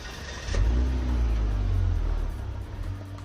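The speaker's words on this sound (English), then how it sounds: "The sound of a twin turbo." A Volvo XC60 D5 twin-turbo engine roars at full throttle on a highway, a close, heavy rumble that swells after a brief quieter start and holds steady for a few seconds.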